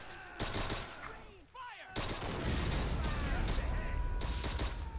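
Rapid bursts of gunfire crackle through an ant war video game battle between red ants and rivals on a trench battlefield, with repeated volleys and booms layered over a constant dense battle din.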